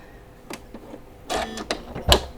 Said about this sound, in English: we're going to go ahead and put our presser foot down and we're going to go ahead and start sewing